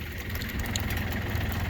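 A New Holland Boomer TC25D compact tractor idles with a steady, even diesel chug. The engine sits close and loud with a continuous low rumble and no talk over it.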